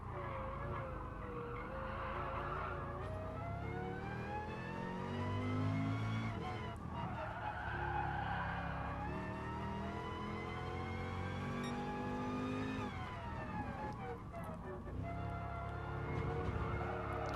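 A riced-out Toyota race car in Gran Turismo Sport drives hard and close, with a continuous rising and falling engine whine shifting through gears and tires squealing through corners, steady and loud throughout.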